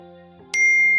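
A message notification plays during a video, a sharp bright ding striking midway and ringing on over a steady hum of sustained background tones.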